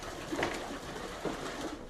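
Feral pigeons roosting in a roof loft give a couple of low, muffled coos against a steady background hiss, faint and somewhat distant.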